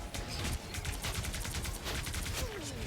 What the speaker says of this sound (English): Let's hit him with the beam.